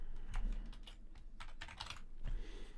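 Rapid, uneven clicking of keys on a computer keyboard, close and fairly quiet, with bursts of faster typing and no talking.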